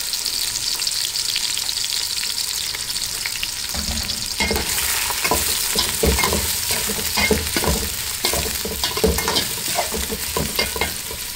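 Green chillies fry in a pot of oil for biryani, a steady loud sizzle with clattering spoon stirs and scrapes breaking in from a few seconds on, continuing rhythmically to the end.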